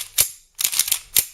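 A Saph/Zeon Hi-Capa 5.1 airsoft pistol, a Tokyo Marui clone with an aftermarket recoil spring, fires with sharp, snappy slide clacks: a single shot, then a quick rattling cluster, then one more crisp crack close by.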